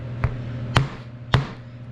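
Three sharp hammer taps, evenly spaced and fairly close, as new wheels are knocked onto a 1966 Ford Galaxie 500 convertible under restoration, with a low steady hum underneath.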